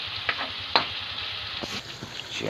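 Tomatoes stir-frying in a pan give a steady close sizzle and hiss, broken by a few brief scraping clatters from stirring, with no voices.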